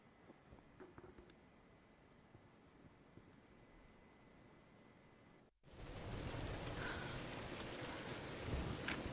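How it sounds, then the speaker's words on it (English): Storm rain pours in Tomb Raider, a soft steady hiss of rainfall and low rumble that swells abruptly into a much louder, denser downpour with heavy thunder-like roar. "We're getting closer to the storm."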